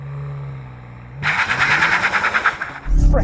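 A new hybrid BMW M5 launches hard from launch control. A low idle suddenly erupts into a loud, rapid, pulsing engine roar that rises through the revs, with a brief heavy thump near the end and no talk.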